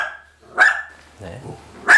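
A dog barks in short, sharp outbursts, three loud barks spread across the moment with quieter gaps between, close by indoors.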